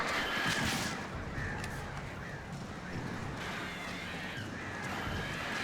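A flock of crows caws repeatedly in the video game Alan Wake Remastered, harsh overlapping calls layered over a dense, noisy game ambience throughout.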